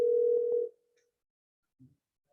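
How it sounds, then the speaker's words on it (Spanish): A single steady electronic telephone tone sounds for about half a second, then cuts off into near silence, with a faint short thump afterward. "está sonando el teléfono acá"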